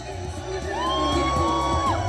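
A crowd at an outdoor Ded Moroz winter celebration shouts and cheers together, loud massed voices with a rising whoop riding over the din.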